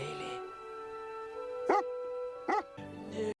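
A newborn yard terrier puppy gives a few short, high yips and whimpers, one at the start and then three more spread out later, close and clear over a soft held music tone.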